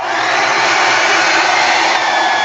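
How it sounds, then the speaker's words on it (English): Blow dryer running steadily at full power, a loud continuous whooshing hiss with a constant motor whine, no pauses. "When you're going to use a blow dryer, turn it on for a couple of seconds first because it gets all the fuzzies that have collected in there."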